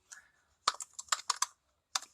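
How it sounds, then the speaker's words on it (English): Typing on a computer keyboard, a few scattered close key clicks followed by a quick run of taps and a brief pause before two more strokes. "here you want to type the name of the file that you have created"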